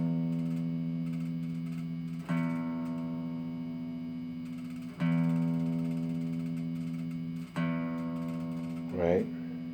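A guitar's low E string is plucked repeatedly for tuning, each note ringing steadily with strong low harmonics before being struck again, about four times at even intervals, close and clear with a brief sliding squeak near the end.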